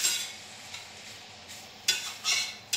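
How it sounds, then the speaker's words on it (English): Kale stir-frying in a reheated frying pan gives a steady high sizzle broken by a few sharp stirring scrapes near the end, close and without voices. "Now I'm going to turn my frying pan back up so it'll stir fry."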